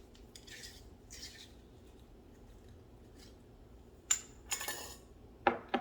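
A hand-mixed cone 6 pottery glaze is stirred in a container. Soft scraping is broken by a few sharp tool clinks against the vessel, mostly near the end, quiet and close with no talk.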